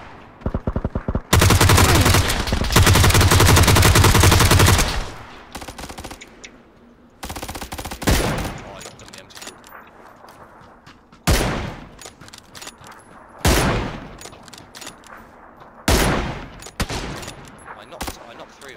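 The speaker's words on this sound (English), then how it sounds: "There's shots coming from the east of the hill." Gunfire in the battle royale game PLAYERUNKNOWN'S BATTLEGROUNDS: a long, loud burst of rapid automatic fire, then several separate sharp shots and short bursts spread over nearly twenty seconds, close and dominant.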